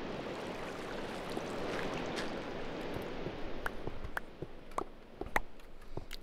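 Flowing water in Minecraft gives a continuous soft rushing wash at low level, joined later by scattered sharp ticks and clicks from the game.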